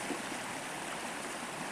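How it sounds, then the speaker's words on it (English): Creek water running through a canyon near Raton, New Mexico, a soft, steady rushing and trickling that continues unbroken and fairly faint, with no voices. "there's water running."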